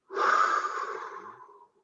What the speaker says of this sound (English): inhale from the nose, exhale from the mouth